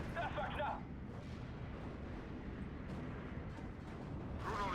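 Anti-aircraft ground fire in a World War II strategy game battle, with rumbling distant bursts of artillery-like gunfire and brief sharper volleys at the start and end over a continuous low battlefield roar.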